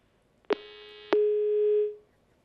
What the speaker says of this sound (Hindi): लगता है उनका फोन कट गया है